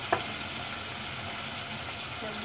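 Washed raisins added to a frying pan of melted ingredients while cooking saffa, giving a steady, moderate sizzle that holds evenly throughout.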